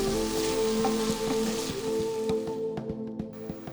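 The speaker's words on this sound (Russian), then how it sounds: "Сегодня моркови достаточно просто окунуться в масло." Carrots dropped into hot oil for a stuffing of lamb ribs and buckwheat, giving a steady close sizzle and crackle with scattered pops, gradually thinning toward the end; no one talks.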